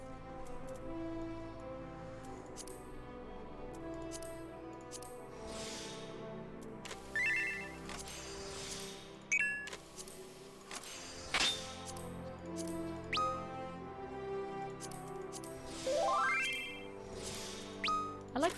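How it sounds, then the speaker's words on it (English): Chiming notification tones from Final Fantasy XIV ring out repeatedly over layered game music, with bright rising jingles and sharp clinks scattered through the passage. "Notification sounds."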